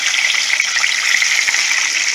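Chorizo sizzles steadily in a pan, a close, dense crackle with no pauses, cooking down for a chorizo gravy to go with chicken fried steak.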